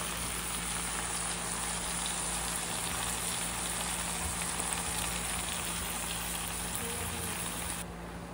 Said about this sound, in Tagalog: ilagay na natin ang talong, ginayat na talong